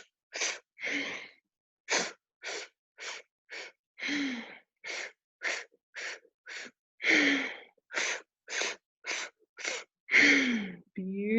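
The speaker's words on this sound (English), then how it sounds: "Really strong, really powerful breathing to connect to your intuitive self." Strong, forceful yogic breathing through the mouth and nose sounds as a steady series of sharp, loud breath bursts, each short and separated by silence, with a few longer, rougher inhales and exhales mixed in.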